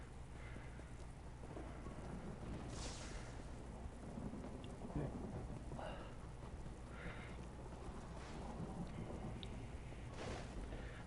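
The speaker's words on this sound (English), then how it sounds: "this place, there's just lightning strikes all the time" Stormy weather in The Elder Scrolls Online game, with constant rain hiss and repeated lightning cracks and thunder bursts at irregular intervals, fairly faint and distant overall.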